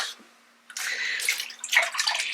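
Tepid water from a filled sink is splashed onto a face at close range, a short quiet pause followed by a burst of wet splashing and dripping.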